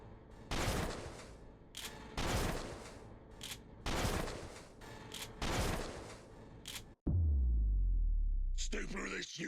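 Video game gunfire in The Skin Stapler: several loud bursts of rapid shots separated by short gaps, then a deep heavy boom and a harsh crackling blast at the end.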